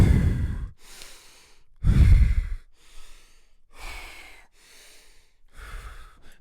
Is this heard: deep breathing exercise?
yes